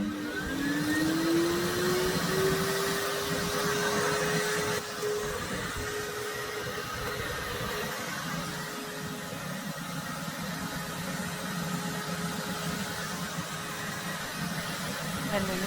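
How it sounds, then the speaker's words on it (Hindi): A household vacuum cleaner runs steadily while cleaning a children's room in an Indian home, a loud continuous motor drone with a rising whine at start-up, with people talking over it. "और शिना जी अब वैक्यूम का काम शुरू कर चुके हैं, वो बच्चों के रूम का"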